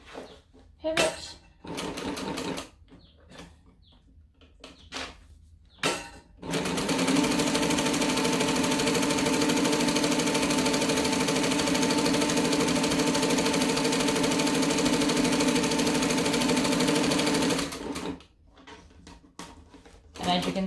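Large heavy-duty sewing machine stitching thick thread in a long steady run of about eleven seconds, a loud continuous mechanical whir with even rhythmic pulsing, with talk before and after.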